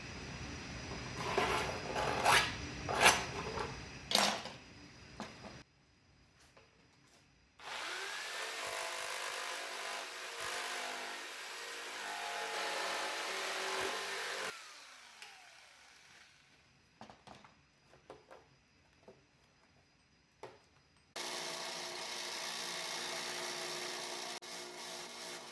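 A power saw cutting a custom rear fender from junk parts for an e-chopper, coming in loud bursts of whining, rasping cuts separated by quiet pauses and clatter.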